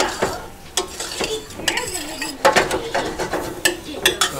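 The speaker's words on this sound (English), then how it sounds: "Stir up this curry fruit." Curry fruit being stirred in a metal pan, with repeated scraping and clinking of a utensil against the pan over a soft sizzle, close up.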